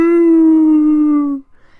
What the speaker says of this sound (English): A strange, trembling wolf cry out in the middle of the forest.